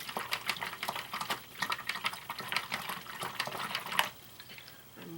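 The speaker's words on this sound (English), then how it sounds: "letting my brush fill completely full of water, letting it really soak down in the water" A paintbrush swished and soaked in a water container while painting with acrylics, with continuous sloshing and bubbly liquid sounds and soft taps against the container, ending in a quieter pause.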